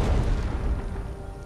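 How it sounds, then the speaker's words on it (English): Recoilless rifle firing in the war strategy game Wargame: European Escalation, a single heavy, low, booming blast that rolls off over about a second and a half with no other sound. "He's taking shots with the recoilless rifle."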